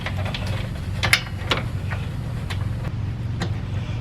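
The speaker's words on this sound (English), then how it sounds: "So screw this piece off and up into the panel and screw this down." Screwing a 30 amp RV outlet down into an electrical panel box, with a steady low hum underneath and a series of short, sharp clicks and ratcheting ticks scattered across the few seconds, close by.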